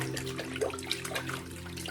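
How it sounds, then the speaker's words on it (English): A shaving brush sits soaking in water in a sink, giving a steady close trickle and slosh of liquid with small splashes and drips throughout, no voices. "brush down in the sink in the water for it to begin to soak and melt the grease pit"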